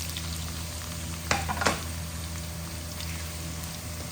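Carrots frying in a hot pan for chicken curry, a steady close sizzle with a couple of brief stirring clatters midway and no talking.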